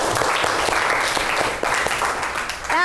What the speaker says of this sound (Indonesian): Marilah kita berikan aplaus untuk ketiga kelompok tersebut